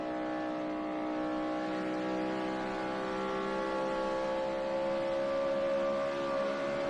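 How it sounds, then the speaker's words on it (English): NASCAR stock cars race around the track at the 2011 Samsung Mobile 500, their engines forming a loud, sustained, high-pitched droning roar that holds steady throughout, with no voices. "These first 5 cars up here, well, really the first 10 cars, they are booking, man."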